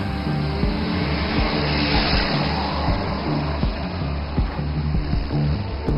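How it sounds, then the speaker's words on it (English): A large military transport aircraft lands on a highway, giving a loud, sustained engine roar and rumble with rhythmic low thumps as the wheels roll along the road surface. "The wheels touch down and roll down the highway"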